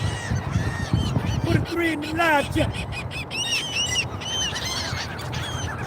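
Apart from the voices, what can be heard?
pet bird honking, likely a goose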